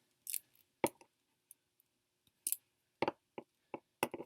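Scissors snip off leftover string on a beaded kandi star ball, a handful of sharp, close clicks and snips spaced irregularly in a quiet room.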